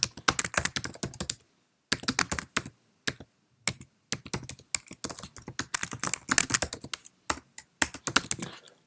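Typing on a Mac computer keyboard while entering text into a note, delivered as close, rapid bursts of key clicks separated by short silent pauses.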